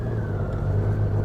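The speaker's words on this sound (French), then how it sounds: "Goldwing Bagger 2023, les gars." A 2023 Honda Goldwing Bagger motorcycle cruising on the road, its engine giving a steady, smooth low drone with a constant rumbling hum and no speech.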